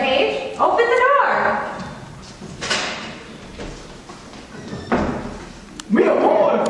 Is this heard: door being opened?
yes